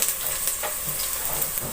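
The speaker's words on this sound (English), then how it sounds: "we start roasting a little onion" Onion sizzling as it roasts in a pot, a steady close frying hiss with faint crackles throughout and no talking.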